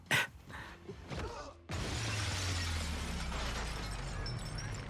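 A window shatters in a Hobbs and Shaw action film scene, a sudden loud crash of breaking glass after brief scuffling sounds, followed by a sustained rumbling wash of debris and low drone.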